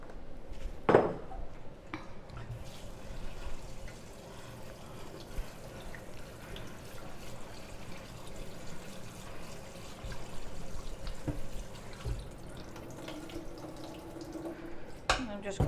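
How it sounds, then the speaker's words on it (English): Tap water runs steadily into a kitchen sink while potatoes are rinsed, a soft continuous wash with faint clinks and drips, lasting throughout at a moderate distance. "I will give it a quick rinse"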